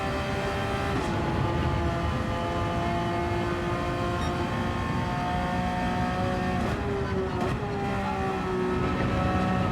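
Porsche 911 992 GT3 engine climbing steadily in pitch as it accelerates hard, loud and close, with a brief shift partway through and no talk.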